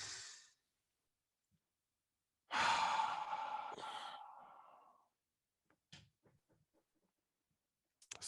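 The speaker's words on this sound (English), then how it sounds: "let's go ahead and take a deep breath for ourselves" A deep breath drawn in, then a long audible exhale that fades slowly, followed by a few soft clicks and small mouth sounds in an otherwise quiet room.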